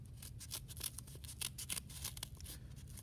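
Scissors snip through folded paper while a snowflake is being cut, the crisp cuts coming several times over a few seconds against a low steady hum, close and fairly quiet.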